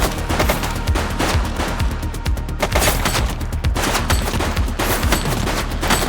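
Dense, sustained gunfire from The Precinct police game: loud overlapping shots and rapid bursts forming a continuous fusillade for several seconds, with no talk.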